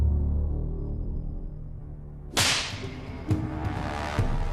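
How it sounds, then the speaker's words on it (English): A scorpion whip lashes a pig carcass in a sharp, loud crack that rises over a low steady hum, followed by a few fainter repeated strikes. "Richard administers 39 lashes of the scorpion"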